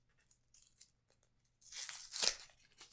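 Paper wrapping tearing off a card deck from a mint tin, a few soft crinkles followed by one louder close rip that swells and fades.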